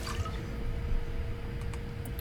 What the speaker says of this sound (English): just by going to our fabricator and converting water, and converting it into one water bottle